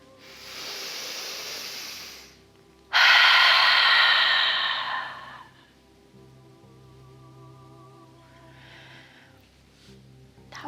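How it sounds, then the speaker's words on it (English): A person breathing during a guided relaxation exercise: a long breath in, then a loud, sustained, breathy exhale puffed out for about three seconds, close to the microphone, fading into quiet with a soft breath later. "we're going to puff all that air out as long as we can"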